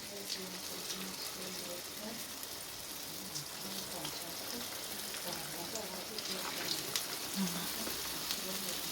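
Belyashi meat pastries fry in hot oil with a steady, dense crackling sizzle throughout, while a person talks over it.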